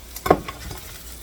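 A single quick stir of food in a pan on a home stovetop, a short scraping swish with a faint sizzle around it, close and fairly quiet, with no talk.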